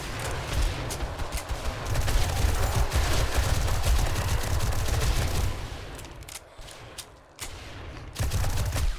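Dense, continuous gunfire from the survival game 7 Days to Die as players shoot at a zombie horde, rapid automatic bursts blending into a loud, unbroken roar with brief lulls near the end.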